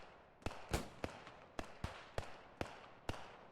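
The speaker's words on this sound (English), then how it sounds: "The Browning machine guns putting fire down range." Browning machine guns firing down range in the WWII game Post Scriptum, a series of about nine sharp, fairly evenly spaced reports, distant-sounding and crisp, with no talk over them.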